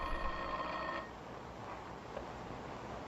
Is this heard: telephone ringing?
yes